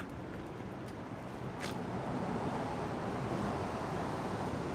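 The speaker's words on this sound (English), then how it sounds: "I'm under a train, so sorry about the sound." A train rumbles overhead on a rainy night in Tokyo, heard from beneath as a broad, steady roar that swells slightly partway through. No one speaks.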